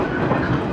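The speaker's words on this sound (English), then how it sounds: "We're traveling by local train up to the Tono base camp." A local train rolling through Japan's rural Tohoku region, heard from inside as a loud, steady rumble of wheels on track with dense rattling, continuous for the whole moment.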